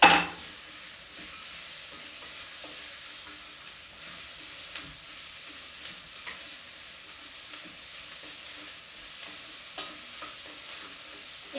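Celery and carrots fry in a pan for a chicken pot pie stew, giving a steady hiss and sizzle while a utensil stirs and scrapes through the vegetables, with no talking.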